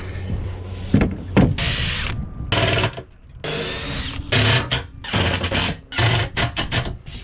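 A power driver drives screws through wooden boat pieces during a restoration, giving loud, close bursts of motor whine that start and stop repeatedly, with brief quiet gaps and handling clatter between the runs.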